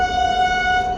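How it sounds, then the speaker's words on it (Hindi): A passing train sounds its horn loudly and close by, one sustained steady blast lasting the whole moment, under a low rumble. "रेल भी निकल रही।"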